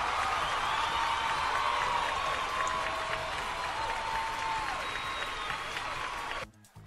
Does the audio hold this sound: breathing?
no